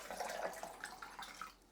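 Warm water pours and splashes over fish in a container, a close, fairly soft gush that tapers off toward the end.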